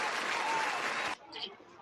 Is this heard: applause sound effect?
yes